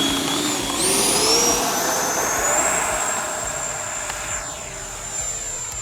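A Freewing Zeus 90mm electric ducted-fan RC jet on a 6-cell pack flies by with a loud, steady high-pitched whine that rises and shifts in pitch as it passes close overhead.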